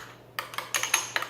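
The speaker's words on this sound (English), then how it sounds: "mix it up with this hot sauce" A spoon clinks and scrapes against a bowl while sour cream is mixed with hot sauce, a few quick light taps and scrapes in close succession, short and fairly quiet.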